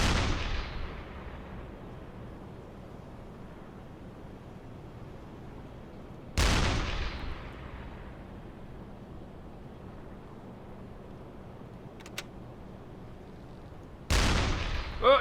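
Deck gun of a U-boat firing shells in the submarine game UBOAT, with three loud separate booms spaced several seconds apart, each followed by a long fading rumble, and a faint sharp tick in between.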